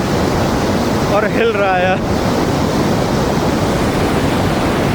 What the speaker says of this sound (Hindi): ये पिंडर ग्लेशियर की जो रिवर है भाई, देखिए कैसी आ रही है